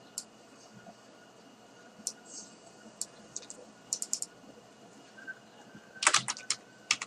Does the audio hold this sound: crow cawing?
no